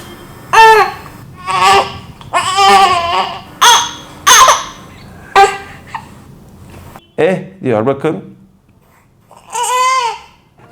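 An infant with gas in the stomach from swallowing air while feeding cries in loud, repeated bursts with short breaths between them; an adult speaks briefly partway through.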